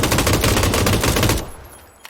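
Gunfire in PUBG rattles out as a loud, rapid automatic burst that runs for over a second, then cuts off and leaves a quieter fading tail.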